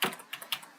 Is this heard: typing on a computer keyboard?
yes